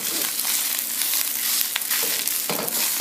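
Fried rice sizzling in a hot pan, a steady loud crackle and hiss with occasional sharper pops, close up and without speech.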